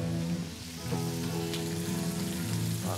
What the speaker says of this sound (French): On va les faire poêler rapidement aussi.